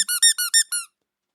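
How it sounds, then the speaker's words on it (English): A squeaky rubber chicken toy squeezed six times in quick succession, each squeak shrill and close, then silence. "Another squeaky chicken."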